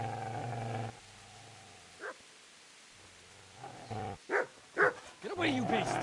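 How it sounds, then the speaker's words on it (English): A dog in the Kingdom Come video game growling low and then letting out several short, sharp barks and yelps in quick succession, with a voice speaking at the start. "Get away, you mutt!"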